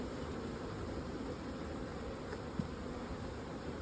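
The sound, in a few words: honey bees buzzing around opened hives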